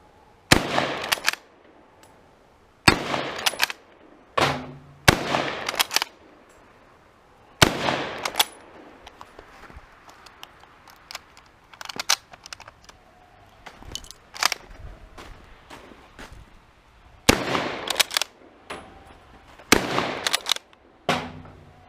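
Sharp rifle shots from a 1918 Rock Island 1903 rifle chambered in .30-06, fired outdoors: a series of loud single reports spaced a few seconds apart, each followed by brief handling noise and quiet gaps.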